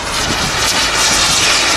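A heavy aircraft passing at an airshow: a loud, steady, broadband engine roar that swells slightly, close and continuous with no voices over it.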